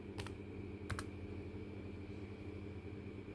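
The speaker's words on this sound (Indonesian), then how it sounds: "Diketik dulu." Several quick keystrokes tapped on a computer keyboard while filling in an annual tax form, a short burst near the start and another just before one second, then only the faint steady hum of a room fan.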